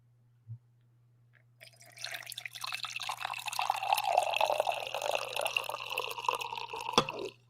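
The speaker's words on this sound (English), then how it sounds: "I think I have one more coffee pour in me here for this final draft" Coffee poured into a cup, a steady trickling splash that builds for several seconds after a single drip, close and fairly quiet over a faint hum, no talking.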